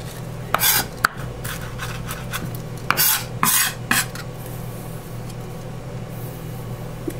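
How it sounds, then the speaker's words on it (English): A knife presses and smashes down on chopped herbs on a cutting board while lemon dill wild salmon is prepared, giving several sharp close knocks and scraping rubs, then a quieter stretch of soft rasping. "You can even smash down on it with your knife if you really want to help incorporate all the flavors"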